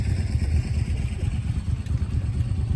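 An adventure motorcycle goes by on a road in Japan. Its engine is a mid-pitched hum with some rumble, heard at moderate distance amid street noise.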